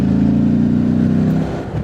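Morbidelli T1002VX adventure motorcycle engine, 2025 model, held at a steady loud drone on the throttle through a gear change, then dipping briefly near the end as the revs roll off, with no voices.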